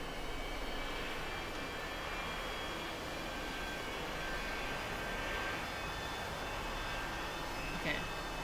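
An A-4E Skyhawk jet in a flight simulator game, run as a free community mod, gives a steady, continuous engine roar and whine at constant loudness, with a faint brief click near the end.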